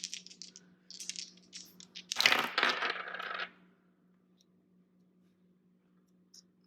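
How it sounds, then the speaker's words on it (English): Small astrology dice clatter and rattle in a brief flurry of light clicks, then tumble and settle with a louder rolling scrape before falling silent, close and quiet. "Let's throw the astro dice for more messages."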